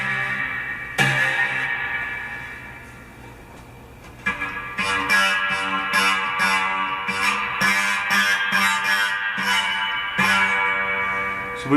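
A homemade guitar built from found parts, played through an amp, rings with buzzy, sustained electric tones, then a series of sharp plucked or strummed attacks repeats in a loose rhythm.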